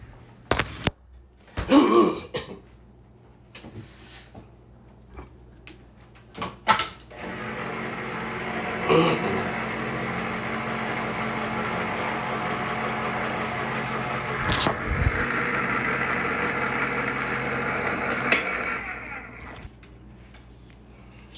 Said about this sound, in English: You heard the can opener going.